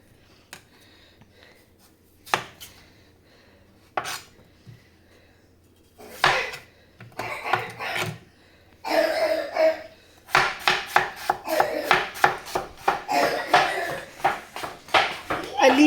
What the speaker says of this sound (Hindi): हम इसको अभी तलेंगे, इस वजह से हम बिल्कुल बारीक बारीक काटेंगे